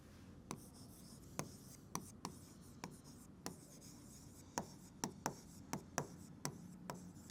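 A pen writes out a maths solution on paper in quick, quiet scratches and taps, a dozen or so short strokes spaced irregularly and close up.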